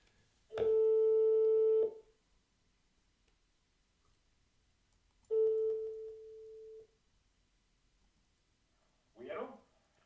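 A phone line rings out while a podcast host calls a guest back: one long tone around two seconds, a second shorter tone a few seconds later, and a faint brief rustle near the end, with quiet gaps in between.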